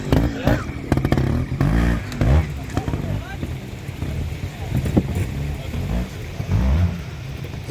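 Trials motorcycle ridden by a female rider through a rocky section at the Scottish Six Days Trial, Gorton: a revving, blipping engine that rises and falls in bursts, close and loud, under a commentator talking.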